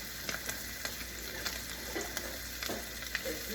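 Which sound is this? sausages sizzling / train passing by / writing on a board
sausages sizzling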